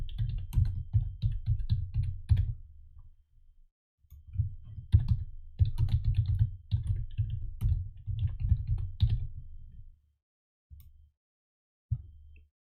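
Bursts of rapid clicking on a computer keyboard as a short name is typed, several quick runs separated by pauses, then a few final isolated keystrokes, close and clear with no talking.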